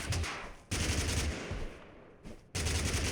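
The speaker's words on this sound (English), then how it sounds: "one of my gripes with the BAR is that it does not have a single fire toggle" BAR automatic rifle firing in the battle-royale game TABG: loud, close bursts of automatic gunfire, a long burst, a pause, then a short and a renewed burst, with no talking.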